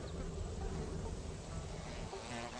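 Flies drone and buzz steadily around a fetid, meat-like stapelia flower in a garden, a continuous close insect hum.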